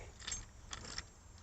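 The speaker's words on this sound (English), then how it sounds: "Let me get the keys here" Car keys jangle in short metallic bursts, a few quiet clinks spread over a moment, for a C4 Corvette fitted with an X pipe.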